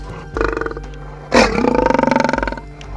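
Bosire, a big cat in Nairobi National Park raised on goat's milk, lets out a short opening growl and then a long, loud, pulsing roar that rattles close by before breaking off.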